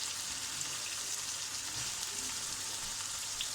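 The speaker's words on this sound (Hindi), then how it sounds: "अब ये मैं उस वक्त तक फ्राई करूँगी जब तक इस चिकन का जो है कलर चेंज नहीं हो जाता।" Chicken pieces for a white karahi fry steadily in hot oil, a dense, even sizzle that holds at one level throughout without pause, close and fairly loud, with no voices.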